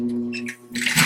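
A sewing machine back stitches while replacing a zipper, its motor humming steadily with short mechanical bursts, ending in a louder, busier run of stitching.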